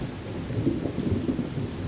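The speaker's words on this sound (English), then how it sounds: "it's raining and I'm going in" Steady rain falls in a dense, continuous wash with low rumbling undertones, close and fairly loud throughout, with no voices.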